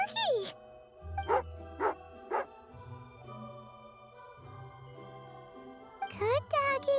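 Dog in the Genshin Impact video game giving a few short barks and yips between soft jingling chimes, with game music playing quietly underneath.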